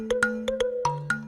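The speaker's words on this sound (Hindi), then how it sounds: "सुप्रिया का नाम लिया, उसका ही फोन आ गया।" Mobile phone ringing with an incoming call, a bright electronic ringtone of quick, evenly spaced melodic beeps, close and clear with no talk over it.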